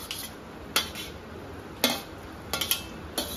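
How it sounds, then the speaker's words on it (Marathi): A spoon stirs shark fish curry gravy in a pan. Sharp clinks and scrapes of metal against the pan come at irregular intervals over a soft background hiss. "आता मिक्स करून घ्यायचंय."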